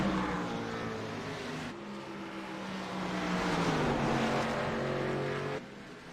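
Race car engines in an Iowa Speedway racing video game, a sustained high engine whine with shifting pitch as cars run close together, loud and continuous without talk.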